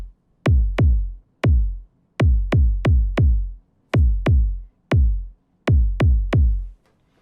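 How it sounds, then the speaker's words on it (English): Techno kick drum for a nostalgic breakbeat techno track in A minor, made with a stamp synth patch: punchy booming hits with decaying low tails, spaced in an uneven, broken pattern of single and clustered strikes, close and loud with nothing else playing. "the first element we're going to talk about is the kick that sounds like this"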